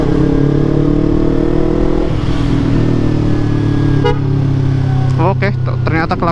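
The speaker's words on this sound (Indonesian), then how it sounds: "klaksonnya sudah dirubah juga" A modified horn on a Yamaha MT25 250cc motorcycle gives one short honk and then a quick run of several toots, all over the bike's steady, close engine drone.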